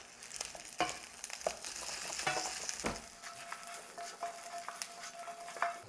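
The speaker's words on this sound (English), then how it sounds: "it's a shallow fry. And then you're gonna put them straight in" Frozen Trader Joe's orange chicken pieces shallow frying in oil, a steady close sizzle with occasional stirring clinks and scrapes.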